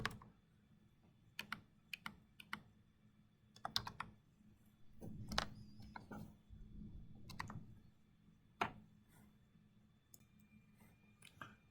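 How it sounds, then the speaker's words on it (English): An account number typed on a computer keyboard, with scattered short bursts of crisp key clicks and pauses between groups, close and quiet against a faint background hum. "You can start typing your account number if you know it"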